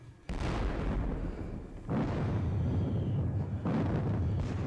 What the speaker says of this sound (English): The Russians open up on my positioning old guard guns.